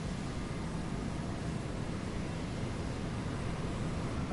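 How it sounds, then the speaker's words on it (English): An airplane touching down in the video game Saints Row 4, heard as a steady, loud, broadband roar of engine and rushing air that holds constant throughout with no voices over it. "Now that's how you do a plane landing."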